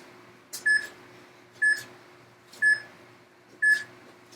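A workout interval timer beeps four times at a steady one-second pace, each short electronic tone clear and moderately loud over a faint room hum, with no talking.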